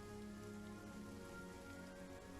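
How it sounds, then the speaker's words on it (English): Steady rain falling and pattering on surfaces, a dense, even wash of drops that stays constant throughout with no voices. "as the rain is coming down on top of you"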